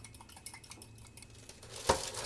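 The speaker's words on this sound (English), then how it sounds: "We need to beat 1 egg because we will use it" Quick whisking clinks of a utensil against a bowl while one egg is beaten for brushing over pastry, a steady close rattle ending in a sharper knock.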